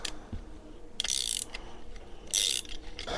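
Vice grips clamp down on a wooden dowel while an automatic shifter is installed, giving two sharp ratcheting clicks about a second apart, close and fairly loud, with faint handling noises between them.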